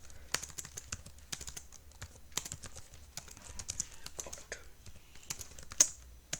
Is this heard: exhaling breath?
no